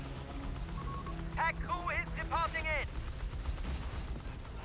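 Semovente assault gun rounds fall on a machine gun position in the Company of Heroes 3 strategy game, with dull explosive impacts over a steady battle din while a voice talks over it.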